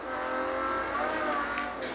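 Ferrari 250 California roadster in Forza Motorsport 3 racing along a coastal road, its engine a steady loud drone at high revs with a faint tire squeal, no voices over it.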